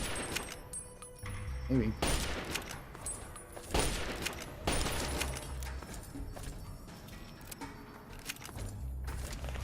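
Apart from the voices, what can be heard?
hunting rifle gunfire in the video game Fallout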